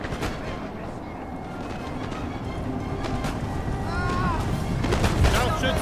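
Napoleonic-era artillery booms and crackling gunfire in Napoleon: Total War's Prussia campaign, a steady barrage building in loudness with voices talking faintly underneath.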